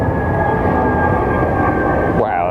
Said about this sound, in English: that's a noisy jet today, that one